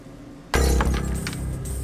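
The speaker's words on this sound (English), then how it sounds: "break some glass into that dark area there" A glass bottle shatters sharply in Tom Clancy's Splinter Cell, a sudden loud crash followed by a brief tinkling spray of fragments, with no talking.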